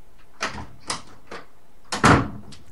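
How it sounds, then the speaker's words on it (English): An indoor door being shut, heard as a few soft knocks and bumps followed by one louder thud, with no talking. "He shut the door."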